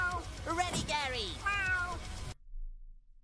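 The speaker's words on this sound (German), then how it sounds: "Das deutsche Gary Miau ist dasselbe wie das englische Gary Miau." Gary the snail from a cartoon meows in a series of drawn-out, wavering cat-like cries, a few close, clear calls in a row, then stops with only faint background sound after.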